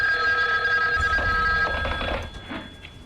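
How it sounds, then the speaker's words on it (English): A telephone bell rings late at night in a quiet home, its steady tonal trill sounding close and clear for a couple of seconds before fading, with no voices over it. "The phone. At this hour?"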